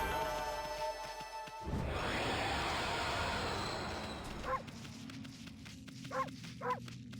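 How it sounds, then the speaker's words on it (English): Amaterasu the wolf barking in Okami HD, three short sharp yips spaced apart, heard over a loud sweeping whoosh and steady game background sound. "you can bark by pushing the circle button"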